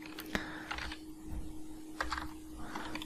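Keystrokes on a computer keyboard while a spreadsheet formula is entered into a cell: a handful of sparse, light clicks in small bursts, close and fairly quiet, with no talking.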